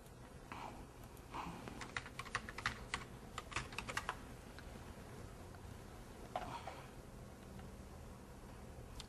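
Typing on a computer keyboard, a steady run of quiet, close key clicks with irregular rhythm and small pauses, heard alone.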